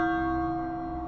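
A single church bell rung once, a steady ringing tone that holds and slowly fades over about a second, loud and alone.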